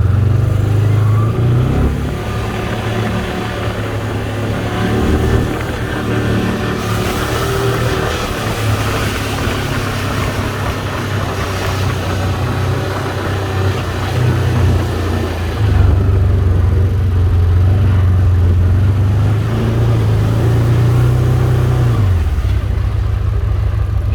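Can-Am Commander 1000 XT side-by-side driving in high gear on a lightly snowy road, its engine a loud, close, steady drone that shifts in pitch near the start and end.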